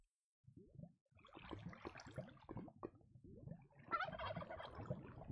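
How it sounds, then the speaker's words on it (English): Turkey gobbling in a video game, a rapid rattling burst of throaty calls that repeats over several seconds, moderately loud and close with no talk over it. "Why is there a turkey down here?"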